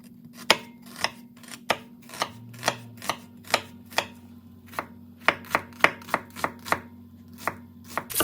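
A sharp kitchen knife chops small onions for homemade chili in a steady run of crisp, close knocks on a cutting board, about two per second and unevenly spaced, with a low hum behind.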